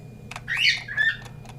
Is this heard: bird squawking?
yes